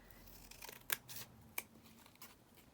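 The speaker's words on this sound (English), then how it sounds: "just going to cut this down because it's a little bit long for that page" Scissors cutting paper down to size for a journal page: a few quiet, crisp snips spaced apart with soft paper rustling between them, close and alone.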